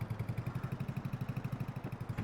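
A small tractor engine idles steadily in Farming Simulator 22, a low, rapid, even chugging pulse that stays quiet and close throughout with no talk over it.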